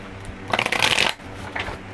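Tarot cards shuffled by hand in one quick, close riffle lasting about half a second, then a fainter follow-up rustle of cards over a quiet room.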